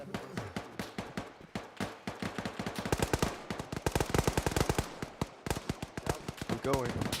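Bursts of automatic rifle and machine-gun fire crack repeatedly in an Arma 3 firefight, rapid and close, in dense rattling volleys with brief pauses.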